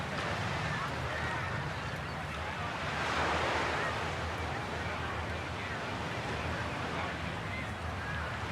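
Steady wash of Pacific Ocean surf beside a Pebble Beach golf green during a women's PGA round, a continuous broad roar with wind buffeting the microphone.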